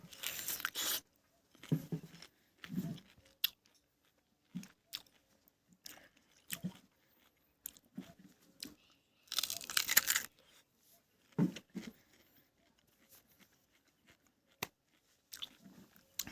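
Someone chews a very sweet food up close, with scattered crunchy bites and wet chewing in irregular bursts separated by quiet pauses, no talk.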